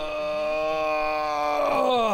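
A big, drawn-out yawn from a Resident Evil 4 character, a voiced groaning tone sliding downward over about two seconds, close and loud.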